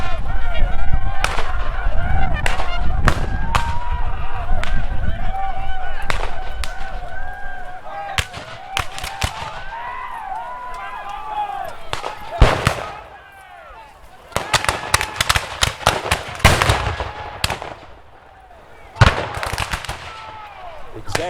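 Civil War reenactment battle at Fort Donelson: a rapid, loud barrage of musket volleys and booming shots, dense at first and then scattered in bursts, with faint voices beneath.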